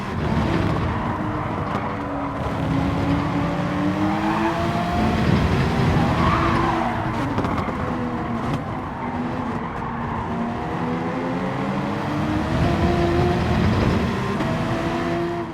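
Race cars in Gran Turismo 7 roar down a straight while overtaking, engines droning with rising and falling pitch and tyre squeal in a steady loud blend, without talk.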